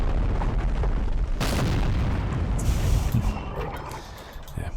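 Artillery fire in the Empire: Total War strategy game: a dense, rumbling barrage of booms with a sharp blast near the start and another in the middle, rolling and echoing continuously with no speech.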